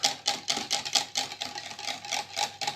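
A whisk or fork beats eggs, cream and salt in a bowl with quick, steady tapping strokes, close and fairly quiet, roughly five strokes a second.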